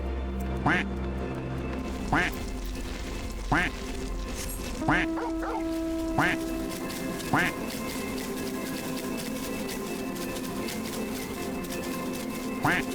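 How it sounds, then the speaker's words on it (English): Duck quacks in the video game Final Fantasy XIV come in a steady series of about ten short, nasal calls spaced roughly a second apart, heard over a continuous background game soundscape. "Moonraker just dumping quacks before falling asleep."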